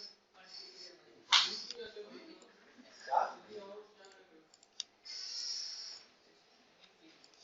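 Mouse clicks select surfaces in CAD/CAM software while Ctrl is held down. Several crisp, quiet clicks are spaced irregularly, with a voice talking intermittently alongside them.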